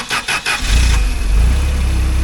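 Engine of auctioned unit number 7 cranking with a few quick starter turns, then catching and settling into a loud, steady idle close by.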